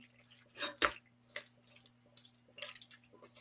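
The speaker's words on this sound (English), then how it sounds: "I'm going to pour this in here like so." Thick macaroni and mochi mixture pours into a baking dish with scattered wet drips, squishes and soft plops, irregular and close, with no talking.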